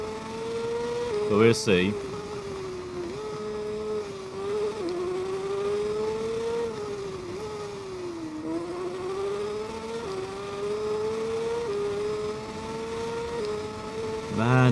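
Motorcycle engine in the racing game TT Isle of Man 2 holds a steady whine that rises and dips with gear changes throughout, under someone talking, with a brief sharp burst near the start.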